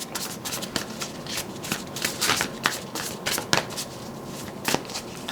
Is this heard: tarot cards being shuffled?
yes